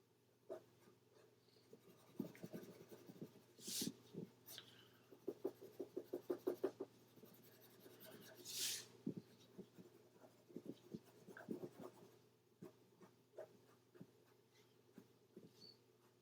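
Small thumbnail sketches being drawn on paper with a pencil, quiet close scratching strokes in short bursts and rapid hatching runs, with pauses between.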